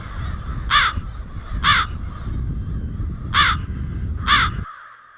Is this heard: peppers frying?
no